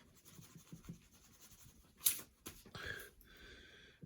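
Rubber eraser scrubbing pencil marks on a paper wargame map of the Battle of Talavera, a few brisk rubbing bursts in a quiet room after soft shuffling and handling noises.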